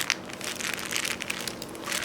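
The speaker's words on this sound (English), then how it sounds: "So here's the sound of that Crinkle toy." Crinkly plastic crinkle toy for a baby, handmade alongside a pacifier clip, squeezed close up, giving a continuous dry crackling rustle with a few sharper crackles, no talking.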